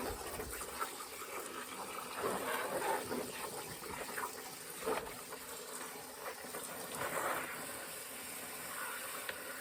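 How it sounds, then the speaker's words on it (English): Water pours into a worm compost tea container with a steady, fairly quiet gushing splash that swells a few times, with no talking. "so we'll put more water in there"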